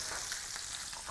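Garlic with tomato paste cooks in a pan during a braised beef short rib recipe, a soft, steady sizzle with small crackling pops, close and faint, no talking.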